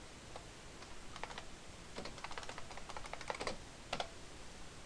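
Typing on a computer keyboard into a Chrome browser, with quick irregular bursts of light key clicks that sit fairly faint over a steady background hiss and are heard alone.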